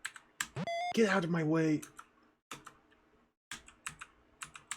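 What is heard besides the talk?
repeatedly pressing the F key on a computer keyboard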